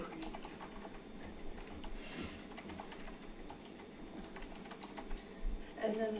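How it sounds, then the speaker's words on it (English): Fingers tap on a computer keyboard in a quiet meeting room, a soft, rapid patter of keystrokes running throughout over steady room hum, fairly close but light. "it's the keyboard"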